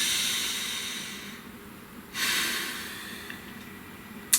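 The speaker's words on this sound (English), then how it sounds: "Breathe." A deep breath during a guided prayer, a long soft inhale giving way to a louder airy exhale, close and alone, ending with a small click.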